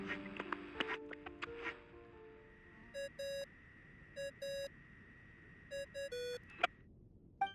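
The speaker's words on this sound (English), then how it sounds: "I really hate that ringing tone." A ringing phone tone from the video game Genshin Impact repeats in short paired electronic beeps over a faint background hum, preceded by scattered clicky game sounds.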